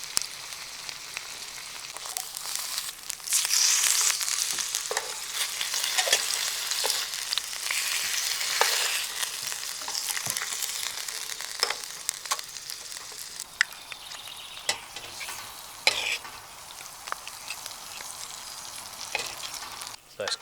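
Two steaks sear in a hot pan at an outdoor camp kitchen, making a loud, steady sizzle and crackle broken by sharp spits and pops, with no voices.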